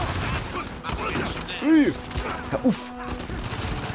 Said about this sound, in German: Lieblingsmaschinengewehr hier im Spiel, eindeutig.